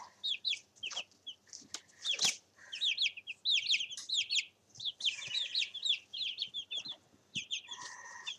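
Eight-day-old chicks peep in rapid, high chirping bursts with occasional clucks, close and fairly loud, with brief pauses between clustered calls.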